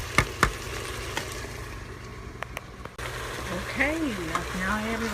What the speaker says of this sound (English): I've just sauteed the onions, and now I've added the celery